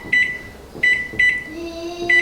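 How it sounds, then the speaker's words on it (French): A microwave oven set to low power gives several sharp button beeps close by, then its low steady hum starts up and runs beneath one more beep. "Du coup là je le mets 5 minutes au micro-ondes à faible puissance"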